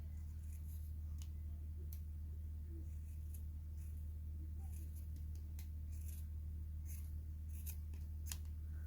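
Scissors snip through strands of yarn while a crocheted wind spinner is finished off, making a string of sharp, quiet clicks that come at uneven intervals over a steady low room hum.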